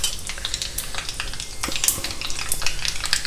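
Mustard seeds and jeera sizzling in hot oil for a South Indian tempering, a dense, close crackle of rapid pops and spits over a steady fry hiss, no talking.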